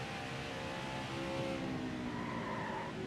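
A race car in NASCAR Heat 5 scrapes along the wall, a steady grinding screech over the engine roar, fairly faint with no talking.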